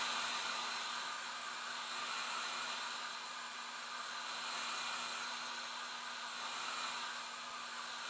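A hair dryer blows steadily at close range over a painted canvas, a constant airy roar with a low motor hum that holds unchanged throughout with no voices.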